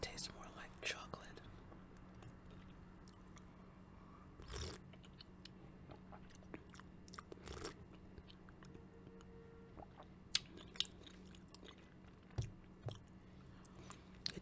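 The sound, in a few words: eating balsamic chicken, chewing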